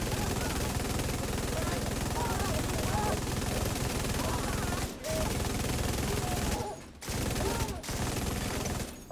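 Continuous rapid video game gunfire, a dense automatic clatter that runs almost throughout, broken by a few brief pauses, with a voice talking over it.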